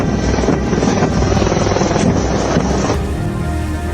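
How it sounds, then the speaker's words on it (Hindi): Military helicopters and aircraft of the Indian Air Force, including Apache, LCH, ALH and Mi-17 helicopters alongside Rafale, Su-30 and MiG-29 jets, fly past at a Republic Day parade, giving a loud, steady rotor and engine roar that holds throughout and thins slightly near the end. "लड़ाकू और सहायक विमानों की फ्लाई पास्ट के जरिए भारतीय वायुसेना की क्षमताओं का प्रदर्शन"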